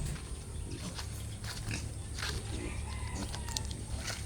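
Piglets with diarrhoea eat at their pen, snuffling and grunting over a noisy farmyard background that includes the cries of other animals.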